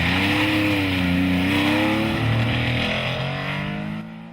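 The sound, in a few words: historic rally car accelerating on a stage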